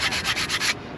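A corroded Tesla brake part is rubbed back and forth on sandpaper laid on a flat surface, giving steady gritty scraping strokes in a quick rhythm, close and moderately loud, that stop near the end with no talking.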